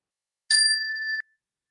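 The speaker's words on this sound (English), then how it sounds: "As we listen to the chime" A chime rung once during a community worship service, a clear bright metallic ring that sustains briefly and then cuts off, alone in an otherwise silent room.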